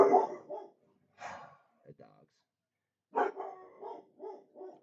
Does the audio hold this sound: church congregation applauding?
no